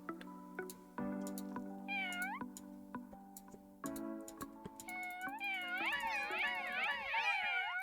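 A cat in a cozy video game meows repeatedly, bright pitched calls growing more frequent toward the end over soft game music and light ticking, with a voice talking at times.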